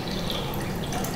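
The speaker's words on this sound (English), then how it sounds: "then you can add your water until you get to" Water poured into a measuring cup on a kitchen scale while mixing New York style pizza dough, a steady close trickle and splash running the whole moment without pause.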